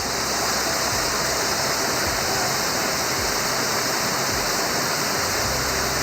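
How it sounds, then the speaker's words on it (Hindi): Waterfalls and flowing streams at Pir Ghaib, a dense, constant roar of rushing water, loud and close, with no pauses and no voices. "गुनगुनाती आबशारें, चश्मों और झरनों से चमचम करता साफ शफाफ पानी"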